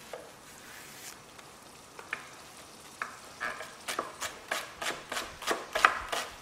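Leeks sweating in a hot pan give a steady soft sizzle. Stirring scrapes come in a quickening run of sharp bursts in the second half, close and fairly quiet, with no talking.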